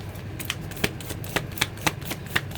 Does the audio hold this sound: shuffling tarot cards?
yes